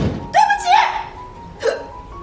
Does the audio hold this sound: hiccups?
yes